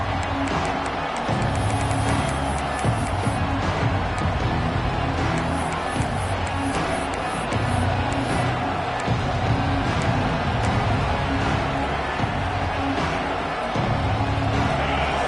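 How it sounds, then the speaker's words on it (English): A dense, steady roar of a fired-up stadium crowd cheering at a college football game in College Football 26, a continuous wash of noise with no break throughout. "It's early, but this crowd is fired up. Listen to this noise here."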